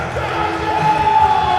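Crowd at an independent wrestling show roars in a dense, sustained wash of voices and whoops, loud and continuous, with a few tonal shouts rising out of the mass.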